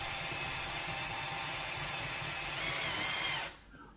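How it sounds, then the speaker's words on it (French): A 3 mm hole is drilled into a plastic part, the power drill whirring steadily at close range for over three seconds before stopping abruptly. "vous faites un perçage avec un trou de 3 mm"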